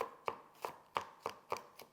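A Butterfork knife chopping onions on a cutting board, seven crisp, evenly spaced chops in a quick steady rhythm, close and alone.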